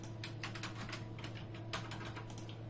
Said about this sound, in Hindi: 30 इमेज टाइप कर लीजिए कीबोर्ड से आप।